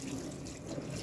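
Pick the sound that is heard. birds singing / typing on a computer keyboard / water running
water running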